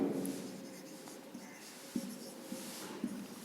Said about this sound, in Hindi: यहां एक वर्ड लिख रहा हूं